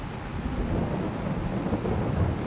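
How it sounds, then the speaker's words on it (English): Rain and rolling thunder in the video game Farming Simulator 22, a dense, steady low rumble with constant rain hiss, loud and unbroken throughout. "The rain's still here."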